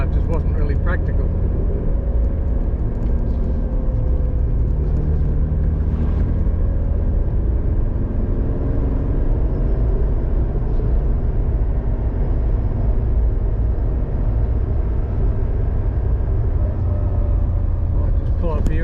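A car climbs a range road near Conondale, its engine and tyre rumble steady and loud from start to finish, heard from inside the vehicle.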